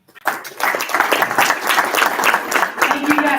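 Audience applause at a Utah GOP state party chair candidate debate, a dense, steady round of clapping from a crowd that swells in quickly and carries on without a break, with no talk over it.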